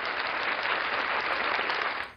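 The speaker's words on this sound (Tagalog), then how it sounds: "Palakpak pala." Applause from a crowd, a dense, continuous burst of many hands clapping close by, steady for about two seconds before cutting off.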